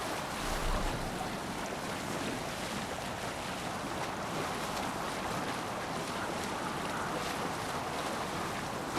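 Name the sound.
boat rowing out at sea in Assassin's Creed Valhalla video game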